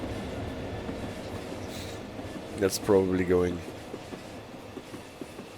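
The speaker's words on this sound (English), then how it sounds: "No, it's not the petroleum, it's the aggregates train this time." In a Train Sim World 6 rail simulation on the Medway Valley Line, a loaded aggregates freight train rumbles past with a steady low rolling drone, and someone talks briefly over the noise partway through.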